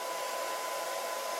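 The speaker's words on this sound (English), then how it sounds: "The blow dryer is pretty cool. This is the first one that I've seen with a touch screen." A touch-screen blow dryer runs steadily with a constant, airy whoosh and a faint high motor whine, close and unbroken with no voices.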